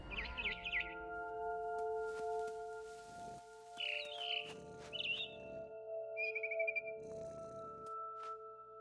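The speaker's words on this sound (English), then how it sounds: "Then I heard chirping outside my window. It was a barn swallow going back to her nest." A barn swallow chirps outside a window by its nest in the game What Remains of Edith Finch, with several short bright bursts of twittering spread apart over a steady tonal ambient hum.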